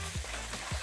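Chicken sizzles in rendered bacon and chorizo fat while being mixed, a steady low frying hiss with two soft stirring scrapes.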